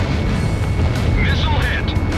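Missile hit explosion in the combat flight game Ace Combat Zero: a rumbling blast with a lingering boom, heard beneath voices.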